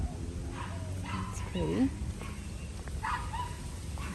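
Dogs in a backyard orchid garden with roosters and hens nearby, whimpering and giving short yips and barks at close range, mixed with a person talking.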